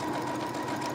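A sewing machine runs at steady speed, stitching fabric in a continuous dense mechanical whir with no pauses, close and fairly loud throughout.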